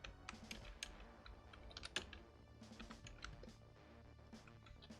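Rapid, irregular clatter of typing on a computer keyboard at a desk, close and quiet, with bursts of keystrokes and short pauses throughout.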